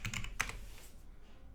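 A quick burst of keystrokes on a computer keyboard, a few close clicks in the first half second, then fading into quiet room tone.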